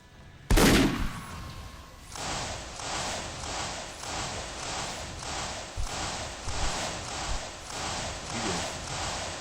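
Rapid gunfire crackles through a sci-fi convention battle event, opening with a loud blast and then settling into steady repeated automatic bursts close by.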